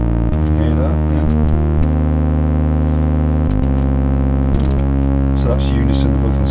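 Two Dubreq Stylophones drone together in unison on C sharp, a loud, steady, buzzy tone whose pitch steps a couple of times, with someone talking over it throughout.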